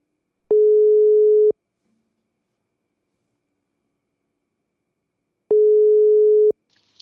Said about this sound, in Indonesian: Biar lebih enak kita langsung telepon orangnya aja.